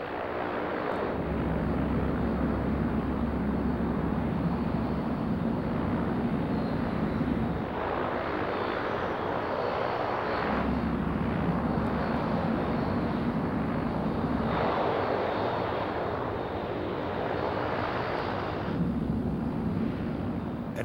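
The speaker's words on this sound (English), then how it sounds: "At 110 knots, Lieutenant Alan Poremba pulls back on the stick and the Orion is airborne." Lockheed P-3 Orion turboprop engines roaring during takeoff, a loud, sustained broadband drone that swells and eases in repeated waves, with a steady low rumble underneath and no voices.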